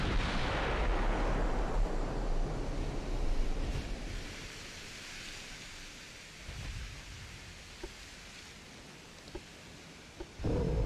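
Naval gunfire from 13-inch guns in the warship game Ultimate Admiral: Dreadnoughts opens with a heavy boom that rumbles and fades into a long noisy wash, followed by a few faint sharp reports and a late thud.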